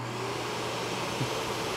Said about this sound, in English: This DEWALT Stealthsonic vacuum is my absolute favorite vacuum at this time for two reasons. It is simply quiet.